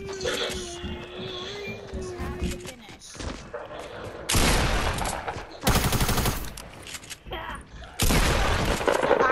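Fortnite gameplay gunfire comes in loud bursts of rapid shots and booms, heavy and close, mixed with other game sounds, while a player's voice talks over the action.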